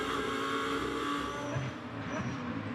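GT2 race cars at Misano circuit in the 2021 Fanatec GT2 European Series, engines roaring loud and continuous with steady high-pitched whine, close and dense throughout.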